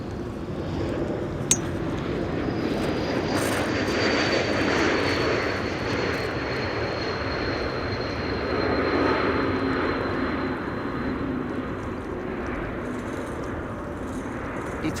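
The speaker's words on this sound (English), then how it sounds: "E2 Embraer 195." An Embraer E195-E2 jet at windy Amsterdam Schiphol roars steadily for the whole stretch, a broad continuous engine rumble with a faint high whine sliding slowly downward, no voices.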